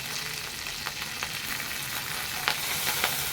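Mustard seeds and curry leaves crackling in hot oil for a chutney tempering, a steady sizzle with scattered sharp pops and spits, close and fairly loud, no speech.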